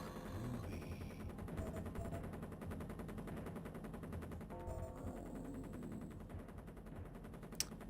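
Rapid automatic gunfire from a non-shotgun weapon in Duke Nukem 3D, a steady dense stream of shots running continuously over a game soundtrack, with one sharp louder crack near the end.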